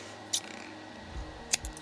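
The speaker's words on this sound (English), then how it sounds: "you're going to grab your scissors and you're going to cut off" Two crisp snips of scissors cutting off yarn during a crochet poncho project, quiet and close, spaced about a second apart with near silence between.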